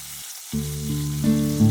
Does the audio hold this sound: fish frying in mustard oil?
yes